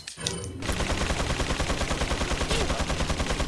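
An enemy fires a machine gun in the Resident Evil 4 game, a fast rhythmic stream of loud close shots hammering on steadily after a brief opening clatter.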